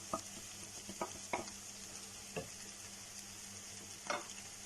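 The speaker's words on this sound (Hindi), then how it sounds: "लहसुन अदरक के साथ इसमें मैं डालूंगी चिकन का कीमा।" Chicken mince, still partly frozen, frying with garlic and ginger in a pan, a soft steady sizzle with a few scattered stirring scrapes and clinks, quiet and close.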